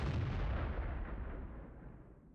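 A single artillery shot from an AMX 105 AM Mle. 47 self-propelled gun in World of Tanks, a loud booming blast that rumbles and fades away over about two seconds.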